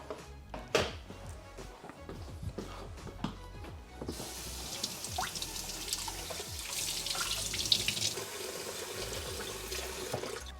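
Tap water runs onto the mop part of a Roborock S8 robot vacuum mop, starting with clicks and handling noises, then a steady hissing stream that continues to the end and wets the part.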